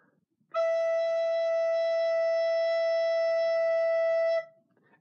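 A recorder holds the note E for about four seconds with a steady, pure tone, played with gentle, warm breath. It begins cleanly, stays even in loudness, then stops, with no voice over it.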